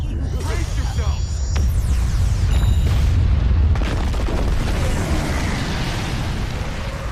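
A huge explosion tears through Metropolis in the fighting game Injustice, a loud, sustained rumbling boom with dense low-end roar and scattered crackles, rolling on for several seconds before slowly easing.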